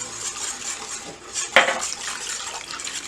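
Canola oil is whisked into a chipotle lime vinaigrette, a soft continuous stirring swish with one sharp clink of utensil against the bowl midway.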